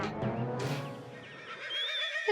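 A man mimics a donkey's bray with his own voice, a wavering, honking whinny-like cry that rises and falls for a couple of seconds, loud and close.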